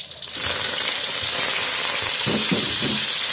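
Water spinach sizzles loudly as it is stir-fried in a hot wok, a steady bright hiss with a few soft scraping stir strokes toward the end.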